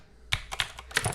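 Quick bursts of typing on a Razer mechanical keyboard, four or five sharp clacky keystrokes in rapid succession, close and crisp with no talking.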